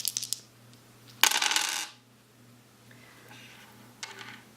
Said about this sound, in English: we get to roll 2 dice plus 1 for having an archer on our side